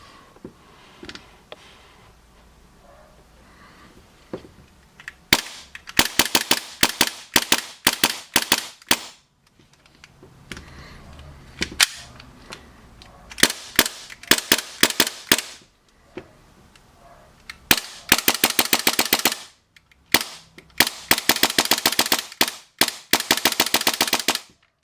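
Bursts of rapid fire from an RWA Agency Arms NOC TMG17 gun, several strings of fast, sharp cracks separated by short pauses, loud and close with no talking.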